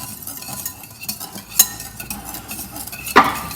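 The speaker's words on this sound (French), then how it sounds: "Maintenant, tu peux fouetter un peu les œufs." Eggs are whisked in a bowl, producing soft repeated clinks and scrapes of utensil against the bowl, with a couple of sharper knocks standing out.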